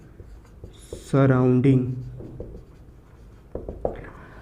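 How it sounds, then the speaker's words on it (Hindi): Writing on a board during a thermodynamics lecture, with short marker strokes scraping after someone speaks a word. "यहाँ पे मैं लिख देता हूँ"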